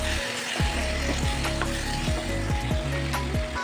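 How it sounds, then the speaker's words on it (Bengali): Chicken sizzling and frying in butter in a pan while it is sautéed for a potato and pointed gourd curry, a steady close crackle with repeated scraping stirs and no talk. "মাংসটা কিন্তু খুব ভালো করে কষাতে হবে"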